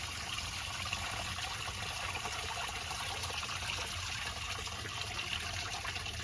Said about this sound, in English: Let that drain completely.